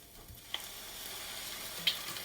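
A glug of white wine hits a hot pan to deglaze it while a vegan celeriac au gratin is being made, giving a quiet, steady sizzling hiss with a couple of small pops.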